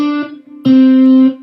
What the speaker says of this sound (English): So what I'm doing is I'm plucking I'm muting everything but the G string.